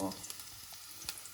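Garlic frying in a pan for pasta, a soft, faint sizzle with scattered small pops and crackles, close and without talk.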